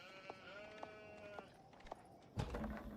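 Sheep bleating in a real-time strategy game match, several short nasal bleats spread across the moment over a steady background bed of game noise, ending in a louder rustling burst.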